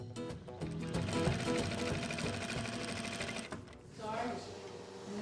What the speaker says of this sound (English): the girls will be working alongside inmates in the facility's sewing workshop, where jail uniforms are made.